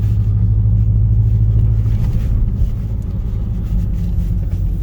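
A vehicle driving on a road in two-wheel drive gives a loud, steady low engine and road rumble that holds constant throughout with no voices.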